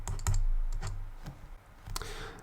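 Close, clicky typing on a computer keyboard: a few quick keystrokes near the start, scattered taps after, and a final cluster near the end, in an otherwise quiet room.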